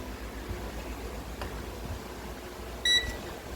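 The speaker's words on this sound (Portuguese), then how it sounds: "Eu vou ligar aqui o multímetro." A multimeter switching on gives a single short, high electronic beep during an amplifier repair, over a steady background hum, with no speech.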